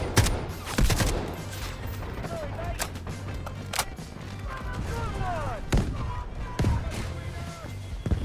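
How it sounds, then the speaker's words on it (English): Artillery strikes in the Delta Force video game, repeated heavy booms and sharp gunfire bursts at irregular intervals, with a voice speaking between the blasts. "these artillery strikes are tough"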